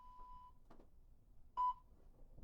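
A workout interval timer gives short electronic countdown beeps: a steady tone, a brief pause, then one louder beep, all faint in a quiet room.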